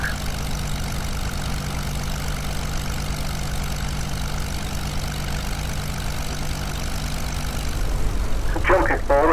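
A Curtiss P-40C Tomahawk II sits idling before taxi, its engine a steady, loud low drone with a constant rumble throughout, and a brief voice cuts in near the end.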